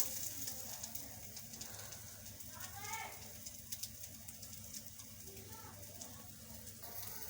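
A bread vegetable sandwich browns in a hot pan, giving a steady soft sizzle and frying crackle throughout, with faint occasional scraping and a voice talking under it.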